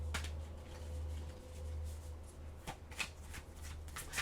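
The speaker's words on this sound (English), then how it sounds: "let me get your last tarot cards here" Tarot cards are shuffled close up, a steady riffling rustle with soft slaps and a few sharper card snaps over a faint low hum.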